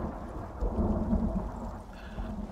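Thunderstorm in the Icarus New Frontiers game: heavy rain hissing steadily with deep rolling thunder rumbling throughout, loud and close.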